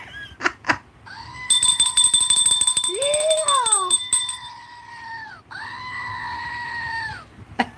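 A squeezed screaming goat toy lets out long, wavering, bleat-like cries, several in a row with a brief gap, over low room noise and a couple of sharp knocks at the start.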